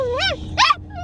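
Duke, a dog at a dog park, lets out a few high, whiny yelping barks in quick succession, close and loud.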